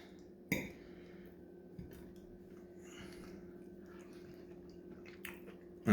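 Soft, close chewing and squishy bites of Chinese eggplant in garlic sauce with pork and shiitake mushrooms, in a quiet room with a few sharper clicks.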